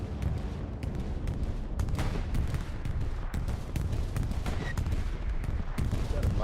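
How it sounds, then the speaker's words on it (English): Dense, continuous artillery and gunfire in the World War II shooter game Hell Let Loose, with repeated booming impacts and crackling shots layered into a loud, steady battlefield roar. "We've got artillery drawing near."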